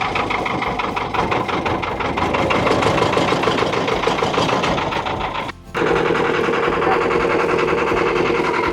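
A motor boat engine drones steadily out on Tapola lake, a loud continuous rumble with a chattering mechanical texture, briefly dipping for a moment before resuming at full strength.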